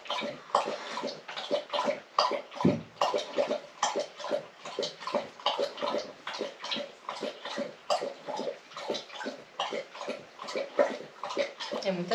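Guiz the dog laps up water, a long, steady run of quick wet slurps in a regular rhythm, close by, with one brief dull knock partway through.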